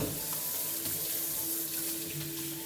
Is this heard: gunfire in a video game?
no